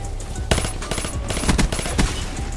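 Burst fire from a rifle in Black Ops 3, loud and close, with several quick clusters of sharp shots and short pauses between them over faint game ambience.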